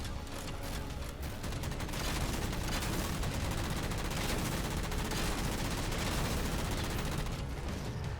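Rapid weapon fire from Covenant concussion rifles in the Halo Spartan Ops game, heard from inside a Mantis, a dense, continuous barrage of overlapping shots and blasts that stays loud and steady throughout.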